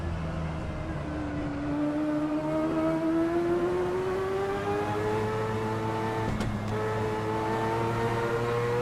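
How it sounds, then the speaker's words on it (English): Race car engine in Assetto Corsa, the simulated motor droning steadily through a hot lap, pitch climbing and shifting through gears, with a brief sharp gearchange blip near the end, loud and continuous. "I'm gonna do one hot lap with this car. I'm gonna just shut up and drive"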